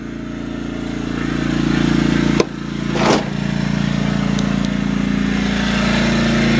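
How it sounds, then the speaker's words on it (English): A portable generator idles close by in a steady, loud mechanical drone with a buzzing engine tone, with a brief knock and a faint swish partway through before the hum carries on unchanged. "Alright, so that's the generator."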